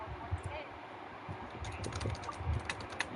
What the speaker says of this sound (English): No, please don't do none of that typing